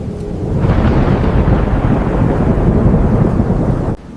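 Thunderstorm with a steady, loud roar of heavy rain and rolling thunder, building after a brief quieter start and holding dense and close until it cuts off near the end; no voices.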